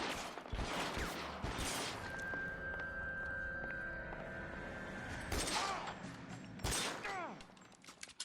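Bursts of gunfire in the video game L.A. Noire, with loud clustered shots at the start, middle and end over a steady game backdrop with a sustained tone, close and dense.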